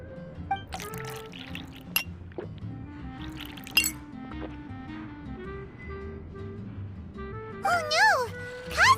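Juice poured into a glass in Genshin Impact, a short liquid splash and clink of glassware amid game music and chimes, with speech nearby.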